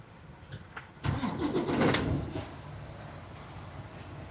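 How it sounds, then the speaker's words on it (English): A truck engine cranks and catches at about one second, running for roughly a second and a half at a loud, rough idle before settling to a steady, quieter rumble. "We're going to turn my truck off, fire it back up"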